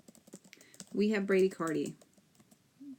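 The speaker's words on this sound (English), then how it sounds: "Typing and talking at the same time." Someone types on a computer keyboard during a lecture on fetal heart monitoring: light, scattered key clicks that sit mostly under a person speaking close by.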